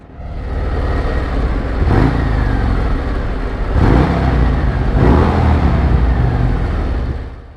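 A motorcycle engine revs hard three times, each throttle blip rising and falling in pitch over a loud, steady idle-to-high drone. The sound is close and strong, with no talking.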